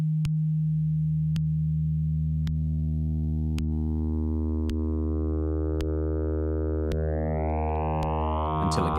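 A synthesizer holds a buzzy, harmonically rich tone while frequency modulation of oscillator B is gradually raised, so the sound grows brighter, more metallic and increasingly distorted, with faint rhythmic clicks throughout.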